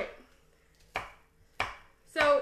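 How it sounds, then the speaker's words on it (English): Knife chopping ingredients into little cubes on a board for an Italian ham pasta salad, three sharp separate chops spaced about half a second apart, close and fairly quiet. "So I'm just like chopping this up."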